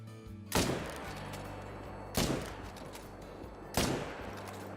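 Three loud rifle shots ring out while hunting elk in the video game Call of the Wild, each a sharp crack with a rolling tail, evenly spaced about one and a half seconds apart.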